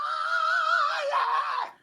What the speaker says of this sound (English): Like he just keeps screaming.